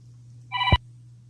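A telephone gives one short electronic ring, a brief tonal chirp ending in a thump, alone against a low steady hum in a quiet room.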